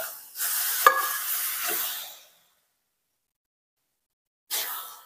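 Horse gram shengole pieces tipped into hot spice masala, a loud burst of sizzling and stirring that fades to silence, then a fresh hiss of frying near the end.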